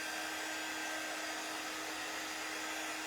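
A hair dryer blows steadily close by, drying painted stars on a chalk craft sign with a constant loud whooshing hum and no break.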